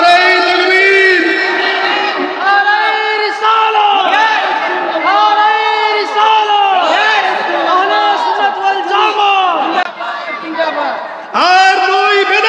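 A large crowd at a Sunni religious gathering roars a takbir chant in loud, rhythmic unison, with repeated swelling call-and-response shouts that fill the space and carry on without a break.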